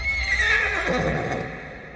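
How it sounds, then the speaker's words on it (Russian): A two-horned horse, a bicorn monster in an anime, lets out a loud, drawn-out whinny that sweeps down in pitch across about two seconds, close and alone with no talking. "Двурогий конь."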